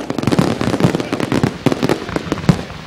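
Fireworks crackle and pop in rapid, uneven bursts over a race track celebration at night, a dense loud string of firecracker-like reports with no talk.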